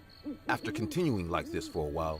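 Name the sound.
owls hooting at night in a forest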